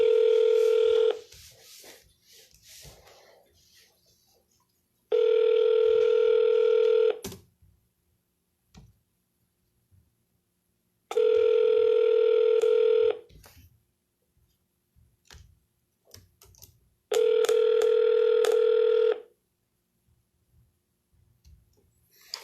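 Repeated bursts of electronic phone tone during real estate cold calling on a Vulcan7 dialer, four evenly spaced two-second beeps separated by near-silent gaps with faint clicks, no talking.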